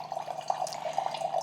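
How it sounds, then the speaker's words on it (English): A CovePure countertop water filter with a touch screen pours a 6-ounce glass of water, a steady close trickle and splash with a thin, bright running tone and no talk. "we're gonna just dispense a 6-ounce glass of water"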